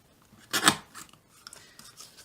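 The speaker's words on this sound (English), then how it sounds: "I want to cut the bottom of the banner" A single quick, crisp slicing stroke as a paper banner's bottom edge is trimmed with a cutter, fairly close, followed by faint scraping and handling noises.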